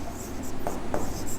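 Chalk or marker writing on a board during a chemistry lesson, a few short scratchy strokes in quick succession, close and moderately loud.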